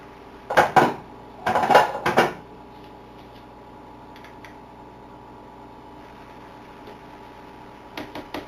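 Ingredients being mixed in a kitchen, a few bursts of clinking and scraping utensils against a bowl early on, then a faint steady hum with occasional light taps.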